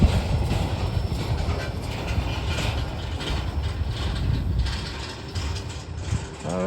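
A rail train rolls past at close range, a loud continuous rumble of wheels on track mixed with clanking and ratcheting from the wagons, with no voices.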